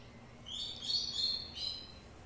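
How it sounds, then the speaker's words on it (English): A pet bird lets out a few shrill, high screeches in quick succession, moderately loud over a quiet room hum. "My bird's screeching really loud."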